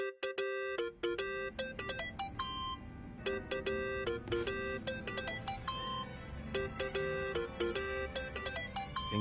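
A mobile phone rings in the video game Yakuza: Like a Dragon, a repeating electronic ringtone of bright melodic beeps that plays continuously over a low background hum.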